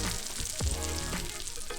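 A salmon or trout fillet fries in a hot pan with a steady, close sizzle and crackle, and a brief scrape partway through as the fish is moved.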